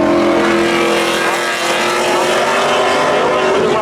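A Pontiac Firebird races at Seekonk Speedway during spectator drags, its engine a loud, steady roar mixed with other race cars throughout, with a commentator's voice faintly under the engine noise.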